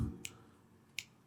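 Two crisp finger snaps, quiet and close, spaced about three quarters of a second apart over a faint low hum.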